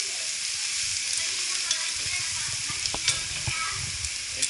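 Wine hitting a hot pan holding browned beef and vegetables for a short rib ragu, sizzling and frying steadily with a bright hiss throughout, broken by a few sharp crackles and pops.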